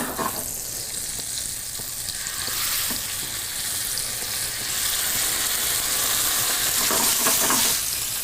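Veal medallions searing in hot oil and butter in a pan, a loud continuous sizzle with bursts of crackling spatter, heard up close with no voices.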